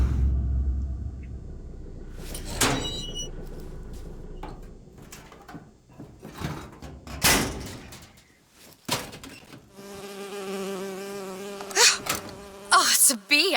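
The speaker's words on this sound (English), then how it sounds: "Oh, it's a bee. I hate these things." Insect-like buzzing from a bee in the BioShock Infinite game, rising and falling over rumbling game ambience, with a sharper tonal, harmonic buzz in the later part and no talk.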